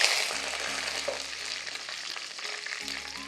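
Guntur red chillies and mustard seeds frying in hot oil give a dense, steady crackling sizzle close up, with a faint low hum beneath and no talking.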